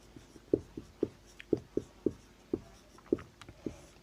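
Pen scratching on paper as a maths problem is written out by hand, a steady series of short, soft strokes and taps close by, without talk.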